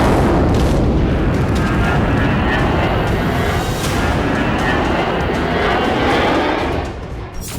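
An IDF fighter jet over Gaza roars loud and broad, a steady rushing engine noise that fills the whole stretch before easing slightly near the end.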